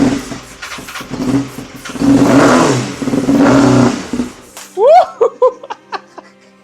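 Wrecked 2013 Kawasaki ZX6R motorcycle engine cranking and running, rising into loud sustained revs, then cutting off, with laughter and excited voices in a few short bursts afterward.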